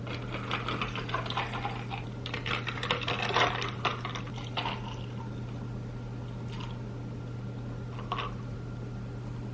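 Drinks poured from bottles into several glasses of different shapes and sizes in a home, faint trickling and splashing liquid over a steady low hum, with a few short pours and pauses, no talking.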